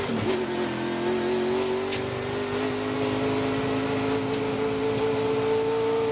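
A Trans Am race car engine drones loud and close from onboard at Sonoma, holding a steady high pitch that rises gradually as the car pulls through the lap.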